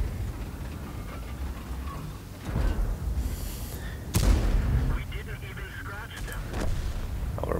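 Several heavy tank cannon shots from a T110E5 platoon battle on the Sacred Valley map in World of Tanks, one sharp loud blast near the middle among lighter thuds over a constant engine rumble.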